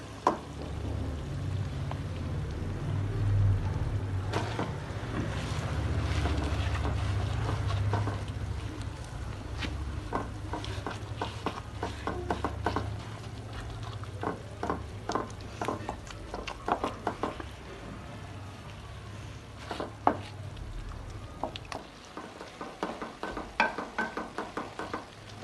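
Chicken frying in a pan with onion, ginger and garlic, a steady sizzle broken by many sharp scraping and stirring knocks from a utensil, close and fairly loud for the whole stretch, quieter near the end.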